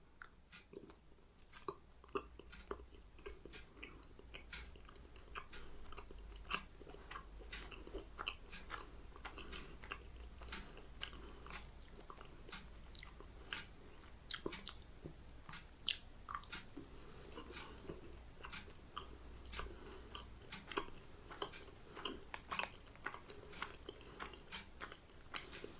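A 2Keep Fit protein bar with small biscuit pieces is chewed close up, with a long run of soft, irregular crunchy bites and squishy chewing and no talk.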